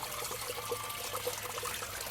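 Brown coolant water trickles and drips steadily from the radiator of a 1995 Jeep Cherokee during a cooling system flush, a continuous close, soft liquid patter with no talk.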